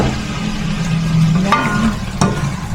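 Tomato sauce hits a hot pan while cooking pasta, giving a loud, steady sizzle and bubbling throughout, with a couple of sharp clinks or scrapes of a utensil near the end.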